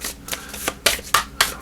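Three unicorn-themed card decks being shuffled by hand, a run of crisp riffling bursts that come in quick succession and end in several sharp card snaps, close and alone.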